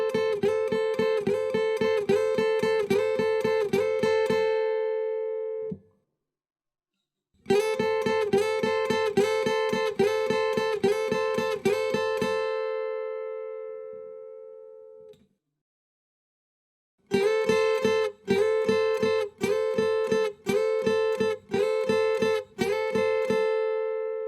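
A guitar dyad at the 10th and 8th frets is slid into and struck six times in three bursts of rapid repeated picking, bright and close, with silent gaps between them.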